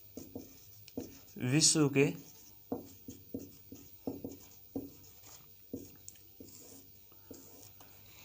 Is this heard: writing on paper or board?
yes